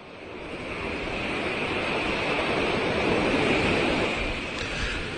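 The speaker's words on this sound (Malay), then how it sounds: "Ombak pada malam tersebut agak kedengaran kuat." Ocean waves break on the shore at night, a steady, loud rushing surf that swells and holds without pause.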